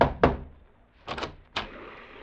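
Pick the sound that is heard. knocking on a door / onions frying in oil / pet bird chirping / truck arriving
knocking on a door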